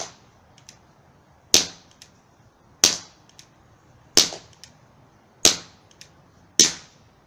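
Five sharp powder-round shots fired one after another at roughly even intervals, each a loud crack that fades quickly, with quiet pauses between.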